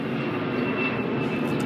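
A fixed-wing airplane drones overhead in Berlin, a steady, broad engine roar that holds even and loud throughout with no voices over it.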